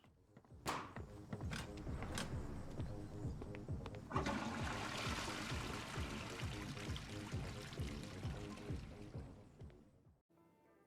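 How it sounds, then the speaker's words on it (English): A toilet flushes in the video game Crime Scene Cleaner: a few sharp clicks, then a sustained rushing surge of water that fills the clip and cuts off abruptly near the end, with no voices. "Once again, flush that pesky toilet."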